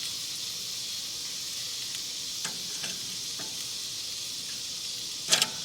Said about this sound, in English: Spreading the chicken out over top of the coals